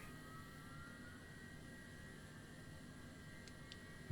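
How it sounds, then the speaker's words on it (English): An aircraft engine in Microsoft Flight Simulator 2020 drones with a faint, steady whine and hum that holds constant the whole time, with no voices. "the engine should auto start itself, which it is"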